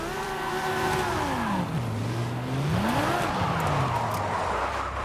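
Mercedes-Benz GTS driven in Forza Horizon 5 with a steering wheel: a steady engine drone that swoops up and down in pitch as the car revs, shifts and drifts, loud and continuous with faint tire noise.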